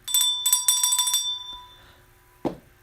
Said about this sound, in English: I'll ring the bell for that one